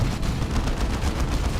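Chaos Terminators fire autocannons in a Warhammer strategy video game battle, a rapid rhythmic run of heavy booming shots over dense rumbling combat noise, loud and continuous.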